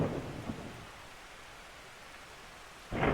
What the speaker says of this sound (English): Now there's more thunder.